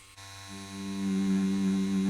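A tattoo machine fitted with a 13 Magnum needle starts up and buzzes with a steady, close electric hum, rising slightly in loudness and holding an even drone.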